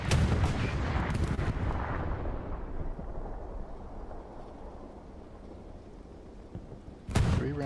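Heavy tank cannon fire booms in a World War II video game battle involving Sherman tanks: a loud blast with a long rumbling decay, then a second sharp, close shot near the end.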